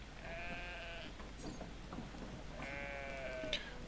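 Sheep bleat in the video game Brothers: A Tale of Two Sons, two drawn-out wavering calls about two seconds apart, moderately close over a low ambient game hum, with some faint clicks in between.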